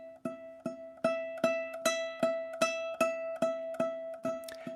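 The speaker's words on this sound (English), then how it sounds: "I'm going to play the 7 on my A string, which is an E note" Ukulele sounding a repeated E note on the A string, picked with four fingers in an even rhythm, each pluck ringing close and clear as the level swells and eases.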